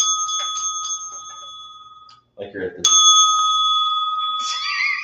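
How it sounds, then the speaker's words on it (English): A small hand-held ring bell chimes bright and close, several rings that fade into a quiet gap before another sharp ring sustains; someone talks briefly in the middle. "I got this cool little ring bell."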